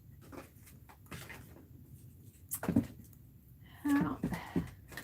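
A crafting tape drawer is pulled open and rummaged through, giving a few soft knocks and rattles followed by a louder scraping shuffle near the end, with quiet rustles between.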